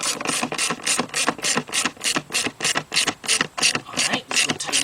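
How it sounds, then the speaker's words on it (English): A ratchet driving a socket on an extension tightens the breather box cover bolts during a timing chain job, giving loud, close, steady runs of rapid clicking in regular back-and-forth strokes with no talk. "we're going to go around and tighten up the bolts on the breather box cover"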